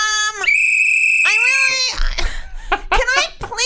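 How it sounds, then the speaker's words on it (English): A whistle blown in one steady, shrill tone for about a second and a half, then broken off by several voices talking and laughing. "Can I blow that whistle?"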